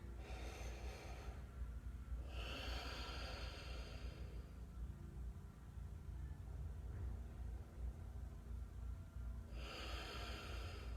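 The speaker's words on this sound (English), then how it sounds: "Take a few deep breaths here" Slow, deep breaths are drawn and released during a calm yoga session, several long airy inhales and exhales heard close up over a steady low room hum.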